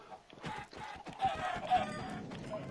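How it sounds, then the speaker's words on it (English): Chickens cluck in a Minecraft world, several birds giving short, repeated clucks close by in a steady, busy run with no talking. "Look at all these chickens!"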